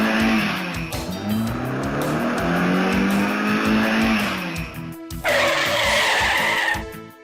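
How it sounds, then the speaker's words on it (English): A car in the video game Alone in the Dark 2 revs and drives a short distance, then spins out with loud, sustained tire squeal and skidding, ending in a second sharp burst of screeching. "He's gonna drive all of maybe 30 feet and do a sweet spin out"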